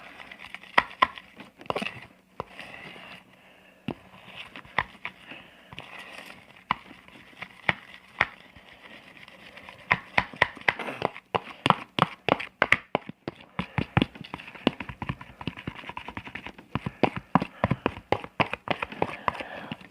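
Sticky, wet slime being stirred and mixed by hand, heard as a long run of quiet, irregular clicks, pops and squelches that grow busier and denser toward the end; no voices.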